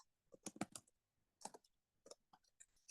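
Keys on a computer keyboard clatter quietly in short uneven clusters, struck by someone with long nails, with brief pauses between the bursts of taps.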